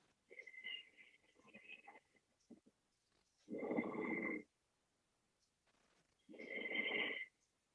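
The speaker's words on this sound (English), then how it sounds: "Hold it here and continue to breathe equally in and out through your nose" Slow, equal Ujjayi breaths drawn in and out through the nose during a yoga practice: two long, hoarse, close-miked breaths after some softer shuffling sounds, with quiet pauses between.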